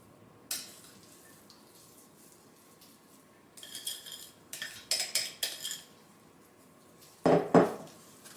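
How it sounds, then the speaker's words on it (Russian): Utensils scrape and clink against a dish while cream is spread over a moist lemon-soda and sunflower-oil citrus cake, quiet scraping then several sharp clatters near the end, no talk. "Распределяю крем."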